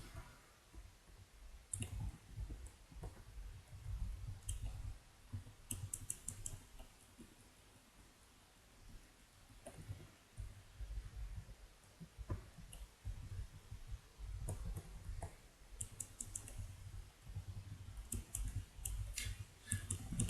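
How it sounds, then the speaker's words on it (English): Clicky computer keyboard keys typed in uneven bursts of sharp, quiet clacks over a faint background hiss, pausing briefly between runs of keystrokes, with no talking. "The keyboards are clicky today."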